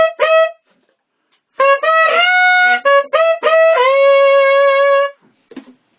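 Tenor saxophone playing a high F sharp, one short note and then longer sustained ones, comparing normal fingering with an overtone fingering that gives a thinner, odd timbre. The notes are separated by silence.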